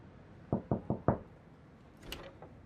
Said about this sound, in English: I remember knocking on the front door